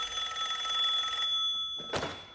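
A phone rings in a movie scene, a steady electronic trill for just over a second. It stops, and a brief sharp knock follows.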